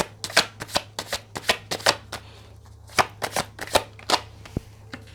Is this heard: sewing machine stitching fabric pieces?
no